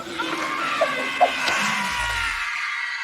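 A theater audience screams together in the horror film The Blob, a loud, dense wall of frightened voices that holds steady, then thins and fades out toward the end.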